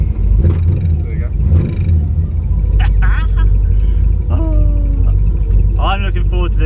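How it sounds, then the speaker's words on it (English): An American crate motor in a car fires up and revs, a loud low rumble swelling with blips of acceleration while people talk over it. "First start. Give it a bit. Accelerate a bit."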